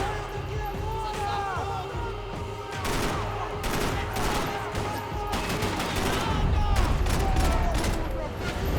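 Glock 18 fire in Max Payne 3, rapid automatic bursts crackling in clusters over several seconds alongside other gunfire, with a voice talking over it.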